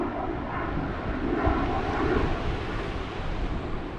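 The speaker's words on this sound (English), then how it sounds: "I'm not on that one either because that looks like a private jet." A private jet passing overhead at a seaside fishing spot in Wales, a distant broad roar that swells slightly and holds, steady and moderately faint over coastal ambience.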